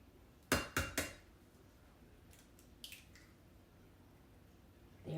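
Eggs being cracked and added to banana bread batter in a bowl, three sharp close knocks in quick succession, then a few softer taps and wet plops against quiet background.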